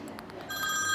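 A telephone bell rings briefly, a short electronic trill that rises in loudness toward the end, heard indoors without talk.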